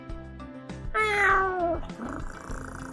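A cat named Tazzy meows once, a drawn-out, clear, tonal cry in the middle, over soft background music and small tapping sounds.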